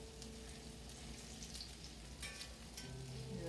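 Potato pancakes frying in a pan, giving a steady, fairly faint sizzle with scattered crackles and a few louder pops.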